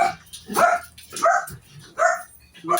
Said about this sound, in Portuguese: meus cachorrinhos estão latindo